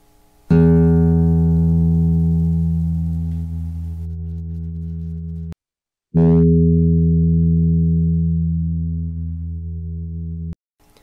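A guitar's E string sounds twice, each a loud, pure sustained tone that rings for about five seconds and slowly fades before cutting off, with a brief silence between, no voices.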